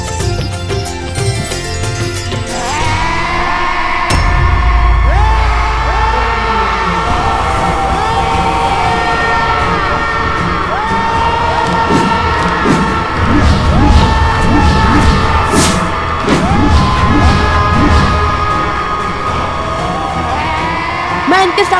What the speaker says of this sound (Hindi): इनकी चीखों के सामने मेरी सुध खो रही है